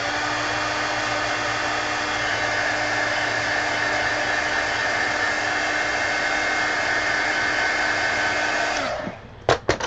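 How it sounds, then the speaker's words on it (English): A heat gun blows steadily on a coloring page to dry paint pen ink, a loud continuous whooshing whine that runs unbroken for about nine seconds before cutting off, followed by a few soft clicks. "And then I'll hit that with the heat gun to make it dry quick."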